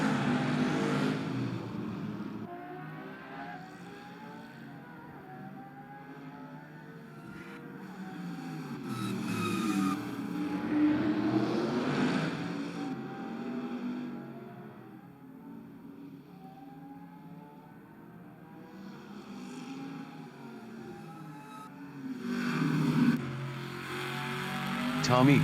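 Historic saloon race cars, a Dodge and a Holden among them, roar past on a circuit at round 5 of the Aussie Historic Saloons, with engines rising and falling as they pass and a commentator talking throughout.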